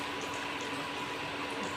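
Potatoes go into a hot pan of oil, giving a soft, steady, quiet sizzle with no voices over it.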